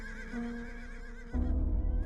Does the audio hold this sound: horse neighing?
yes